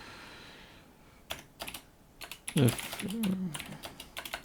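Keys clatter on a KBC mechanical computer keyboard in a series of sharp, close taps with uneven rhythm, while someone talks briefly partway through.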